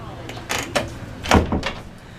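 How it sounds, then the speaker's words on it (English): A door pulled open: a few short knocks and a heavier scrape or thud partway through, close and clear. "Let me pull this door."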